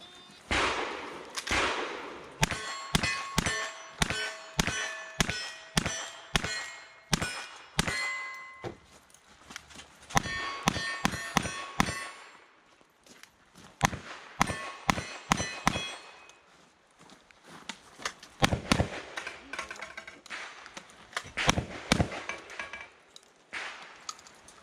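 Revolver and shotgun shots ring out on steel targets at a timed shooting stage, each sharp report followed by a bright metallic clang, in rapid bursts with short pauses between strings over roughly twenty seconds.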